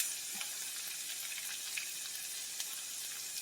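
Ginger, garlic and scallion frying in a hot pan beside chicken thighs, a steady soft sizzle with small crackles and pops, close and even throughout with no talking.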